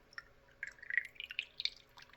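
Water trickles into a Hornady 7 PRC brass rifle case in quiet, close, irregular drips and small splashes, with soft liquid plinks coming in quick succession over a couple of seconds.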